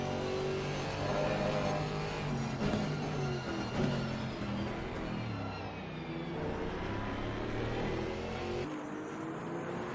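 GT4 race cars in Assetto Corsa Competizione at Misano, engines droning and revving together in a close pack, a steady loud layered roar with shifting pitch and no talk over it.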